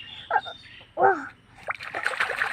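Water splashing as a person swims in a small river, with a few distinct splashes and sloshes followed by lighter trickling and splashing, close by and fairly loud.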